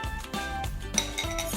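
Pumpkin pie filling with eggs being mixed in a bowl, quiet clinks and scrapes of a utensil against the dish in a short, irregular run.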